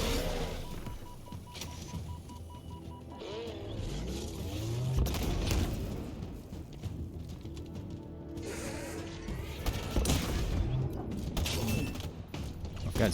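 Gunfire and combat effects while shooting an enemy in the video game Halo, busy layered bursts and mechanical clatter over a steady background, with a voice talking at points.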